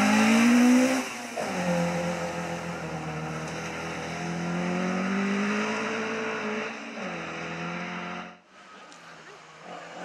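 A Ford Escort rally car driving on a Welsh forest rally stage near Sweet Lamb, its engine droning loudly with rising and falling revs and gear changes, close and continuous before cutting away near the end.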